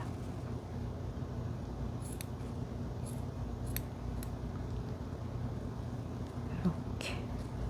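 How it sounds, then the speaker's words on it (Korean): Scissors trimming protruding hair during grooming, a few faint, sparse snips over a steady low background hum. "이렇게 해서 예쁘게 길이를 보면서 튀어나온 부분을 잘라주세요."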